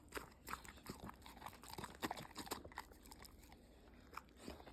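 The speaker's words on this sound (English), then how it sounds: "that's a Pitbull size bite" A pitbull bites and chews pizza up close, with repeated wet crunching bites and chomps in an irregular rhythm over about five seconds.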